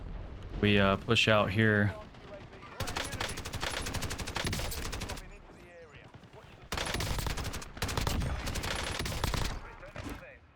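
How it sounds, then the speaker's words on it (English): Precision airstrike explosions and gunfire crash through a video game battle in loud bursts and rattling volleys, repeating in waves under a player talking. "Precision airstrike standing by."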